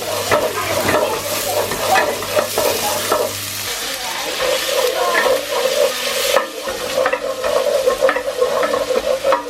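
Garlic and ginger fry with softened onions in a sticking pan, loud close sizzling broken by repeated scraping and stirring strokes of a utensil.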